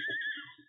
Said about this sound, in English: the Lone Ranger heard a distant whinny